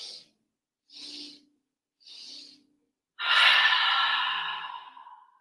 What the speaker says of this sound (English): This is a modified breath technique that's sometimes called breath of joy.